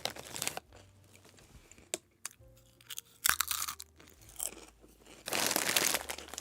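Salt and vinegar Carta Musica chips crunch and crinkle up close, irregular sharp bites and chewing with pauses between, bag rustling in louder bursts at the start and end.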